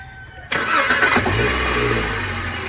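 A car engine cranks and catches at about half a second, then settles into a steady low idle that carries on close by.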